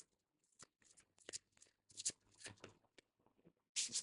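Tarot cards being shuffled and drawn up close, a series of soft riffling flutters and crisp slaps in irregular bursts, quiet overall.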